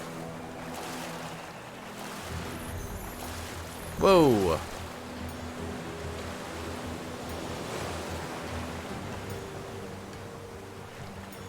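Boat sailing against the waves in Stranded Sails, a steady rushing wash of water and wind that runs throughout, with a brief voiced exclamation partway through.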